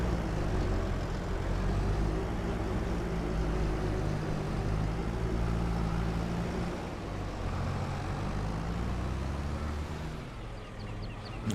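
A tractor engine in Farming Simulator 22 drones steadily and loudly for about twelve seconds, a low rumbling hum with no pauses and no talk.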